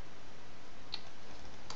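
A few soft, sparse keystrokes on a computer keyboard, faint clicks over a steady background hiss.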